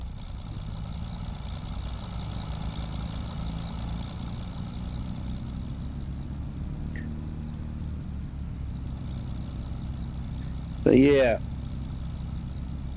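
Tractor engine in Farming Simulator 25 droning steadily as it labors up a steep hill in third gear, a continuous low rumble running throughout beneath someone talking, with a brief louder sweep near the end.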